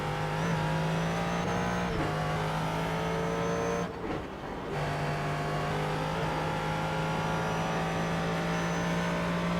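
A Ford GT3 race car in iRacing at Road Atlanta: a loud, steady engine whine climbing in pitch through the revs, then a short dip and lift around a gearchange before it drones on again, with no talk.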